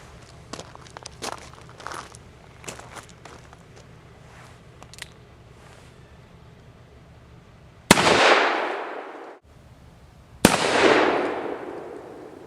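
Two loud, sharp black-powder revolver shots from a Ruger Old Army with 5.5-inch barrel firing 255 grain conical bullets over 30 grains of 3F Goex, each blast trailing off into a long rumble, preceded by faint handling clicks.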